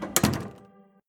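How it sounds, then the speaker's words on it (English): A door closing as a man leaves a room in a murder-mystery audio drama: a single close, solid thunk with a short latch click, then a brief fading ring. "He walks to his door and then exits."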